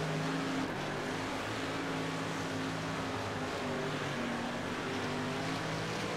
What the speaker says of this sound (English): Cars all over the place.